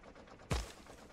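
A single sharp gunshot-like burst from a chain gunner in a modded video game, punchy and close against a low background hum.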